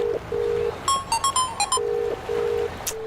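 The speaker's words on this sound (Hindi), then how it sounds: "रुक, पहले सूर्या को फोन लगाता हूँ" A phone ringtone repeats on a steady tone in near, sustained bursts, with a brief patterned electronic melody in the middle and a short high chirp near the end; no one speaks.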